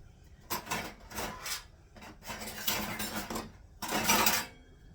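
Dishes and a small red bowl handled in a home kitchen, giving several bursts of clinking and scraping, close and moderately loud, with short pauses between, no talk.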